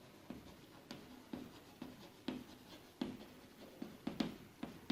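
Chalk or marker writing out a maths problem on a board, with short scratchy strokes and taps repeating in an irregular rhythm, close and fairly quiet.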